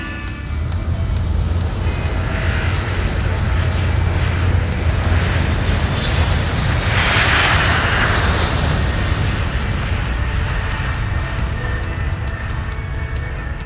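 Steady, loud airplane engine roar fills the whole stretch, a constant jet-like rush with a brief swell near the middle, played as a sound effect with no talking.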